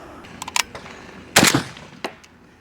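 An AK rifle fitted with a Delta-tek muzzle device fires a few sharp reports, a pair of quick cracks followed by a louder, longer blast and a final shot, close and alone.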